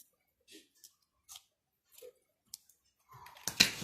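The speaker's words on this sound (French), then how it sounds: "on peut même couper l'excédent ici" Small scissors snipping off excess material on a DIY pin board: a handful of sparse, quiet clicks and snips spaced out over a few seconds, ending in a brief cluster of louder rustling and cutting.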